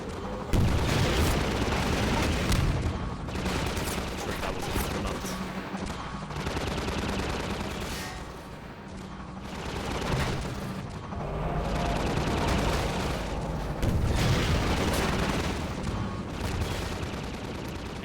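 A Combine gunship in Half-Life 2 fires in long, loud sustained bursts of rapid gunfire with heavy booming impacts, the barrage pausing briefly between volleys and continuing throughout, with no talking.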